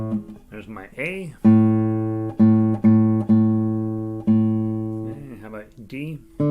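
Acoustic guitar A string plucked repeatedly during tuning, four sustained ringing notes each decaying before the next, with brief talk at the start and end.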